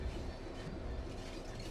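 A Class 66 locomotive runs in a train simulator game, a steady low rumble of rolling wheels and engine drone with faint clickety-clack, even and continuous.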